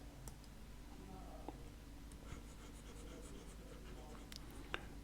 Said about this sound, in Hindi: इसको मैं ठीक से लिख देता हूँ।